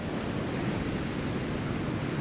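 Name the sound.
waves breaking on a beach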